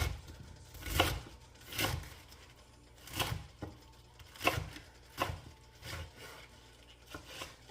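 A knife slices through bok choy on a board in steady, evenly spaced chops, about one per second, each a close crunchy thud, with no talking.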